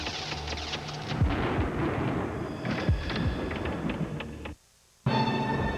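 Thunder rumbles heavily from an approaching storm in a TV advert, a dense, loud roll with occasional sharper cracks, dropping to near silence for a moment before surging back.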